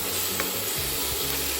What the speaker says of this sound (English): now I'm going to saute it in a little olive oil